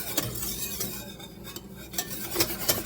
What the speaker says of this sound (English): you want to whisk constantly in the pot because you do not want to scramble the eggs